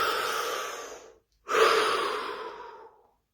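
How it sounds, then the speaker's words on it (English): A deep breath, drawn in and then slowly let out, during a guided body-scan relaxation. Two long, soft, airy breath sounds separated by a brief silence, close and clear, with no talking. "Deep breath."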